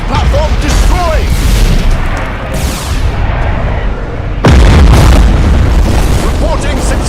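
Heavy booms and rumbling blasts as an enemy defense platform is destroyed in the space-battle game Battlefleet Gothic Armada 2, loud and dense throughout, with a sharp surge of explosion noise about halfway through.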